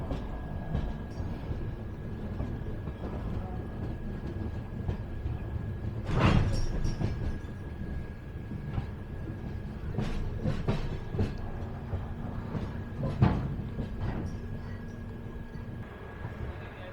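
New Delhi–Sogaria Intercity train with First AC coaches running on rails, heard from inside a coach: a continuous low rumble with occasional sharper clanks and rattles, and a steady faint tone throughout.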